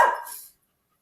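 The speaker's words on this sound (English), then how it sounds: "She's got a loud bark for such a, I mean, she's not a huge dog." A medium-sized female dog lets out a single loud, close bark that cuts off quickly, leaving silence for the rest of the moment.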